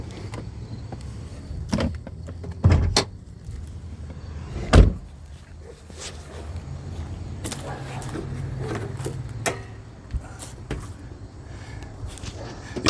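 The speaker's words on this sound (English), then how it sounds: "Let me pop the hood." The hood of a 2013 Chrysler 200 with the 3.6 six-cylinder is released and raised, giving a couple of sharp thunks and latch clunks over a steady outdoor rumble, with a few softer knocks afterward.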